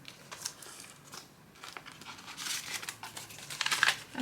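Paper money bills rustling and crinkling as cash is sorted into envelopes, close and soft, with uneven bursts of handling that grow busier toward the end.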